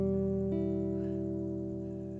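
A single E minor chord rings out on guitar, strummed once and left to sustain and slowly fade, clear and close with no talking.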